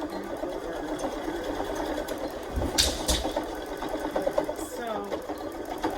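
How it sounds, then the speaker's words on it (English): A sewing machine stitches back and forth over a rubber band at a fabric edge, its steady motor whir running throughout with brief louder bursts of stitching midway, close and clear. "I'm going to backstitch the edge, and then I'm going to go over the rubber band a few times."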